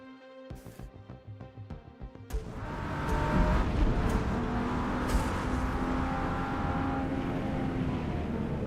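Race car in Forza Motorsport, first idling with sharp blips of the throttle, then launching into a loud, continuous high-revving run with gear shifts, heard close and alone.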